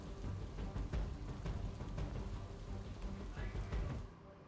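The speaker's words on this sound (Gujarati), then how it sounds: "રાણીપ સહિતના અનેક વિસ્તારમાં વરસાદ વરસી રહ્યો છે" Rain falls over Ahmedabad's western areas on a cloudy morning, a dense, steady patter of drops on surfaces that thins out at the very end.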